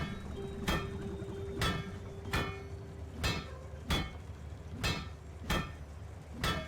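Single hammer strikes at a forge in the game Spiritfarer, sharp metallic clanks falling about once a second in an even rhythm, each ringing briefly over a quiet low hum.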